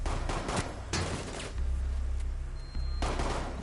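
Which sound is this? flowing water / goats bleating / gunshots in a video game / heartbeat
gunshots in a video game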